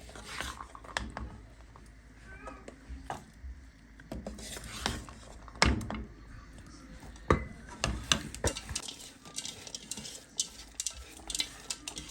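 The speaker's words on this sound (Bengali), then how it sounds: "এখন মুড়ি মাখবে আপনাদের ভাইয়া" Puffed rice is mixed by hand in a bowl with chopped coriander leaves, tomato, green chili and onion, giving soft rustling and clinking strokes, intermittent and fairly quiet, with brief louder knocks partway through.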